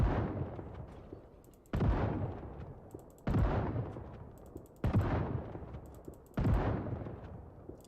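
Five loud gunshots from the video game Project Zomboid, spaced roughly every one and a half seconds, each a sharp crack followed by a long fading rumble, with no talk over them.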